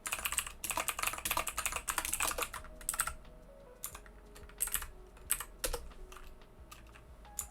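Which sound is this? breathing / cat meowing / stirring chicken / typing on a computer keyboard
typing on a computer keyboard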